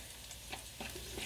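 A fork stirs pasta into sauce in quiet, wet, squishing strokes, with a soft clink of the fork partway through and a slightly fuller scrape near the end.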